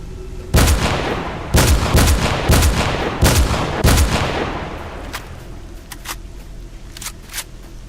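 Rapid bursts of gunfire from the S.T.A.L.K.E.R. Lost Alpha game, loud sharp shots in quick irregular volleys with brief echoing tails, later thinning to lighter clicks and single reports.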